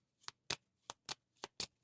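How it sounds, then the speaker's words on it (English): Kinfire Chronicles game cards are shuffled in six quick, crisp riffling bursts spaced evenly apart, close and clear with no talking. "we need to shuffle all of your cards and dish out 7 of them"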